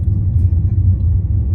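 A car descends a mountain road from Big Bear in slow traffic, its steady low engine and road rumble droning continuously from inside the cabin with no voices.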